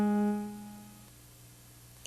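A single sustained G sharp tone rings out from a music-reading lesson, strong at first and then fading steadily over about two seconds, alone and close.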